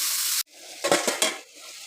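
Crab sautéing in a spice marinade in a pan, a loud steady sizzle that cuts off abruptly, followed by a few clattering stirs and scrapes and a quieter, lingering fry, close up with no voices.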